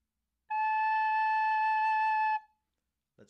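Recorder playing a single sustained A note, a clear steady pure tone held for about two seconds and then stopping, followed by a brief soft noise.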